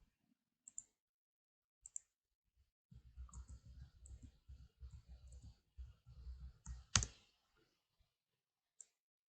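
Sharp mouse clicks on a computer during a networking class: isolated single clicks spaced a few seconds apart, with a burst of soft low rumbling handling noise in the middle and one louder click near the end.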